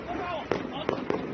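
Firecrackers going off in a news clip of a man being forced into a police van by officers: three sharp pops roughly 0.4 seconds apart, heard over continuous background talk and crowd noise.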